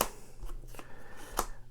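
Augsburg 1520 board game cards are flipped over on a table, a few quick soft papery snaps and slides close by, with no talk.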